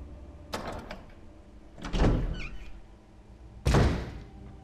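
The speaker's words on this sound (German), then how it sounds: "Hier die Tür aufgeschlossen." A door is unlocked and opened in the Resident Evil video game, with three heavy thunks spaced over a few seconds: a lock clunk, then a louder thud and a final slam, close and alone with no talk.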